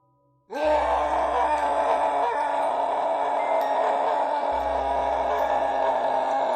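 An eight-foot monster in a Hindi horror tale lets out a long, loud, sustained groaning scream of pain that starts abruptly and holds steady for several seconds, with deep rumbling underneath and no talking.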